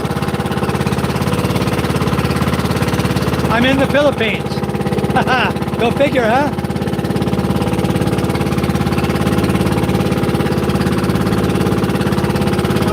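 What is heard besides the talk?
motorboat with two single-cylinder 18 hp diesel engines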